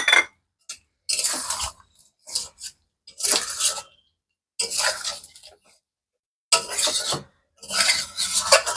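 Rose water, kewra water, sweet attar and biryani essence being poured and stirred into meat for biryani, with scattered clinks and scraping bursts separated by short pauses, close and moderately loud.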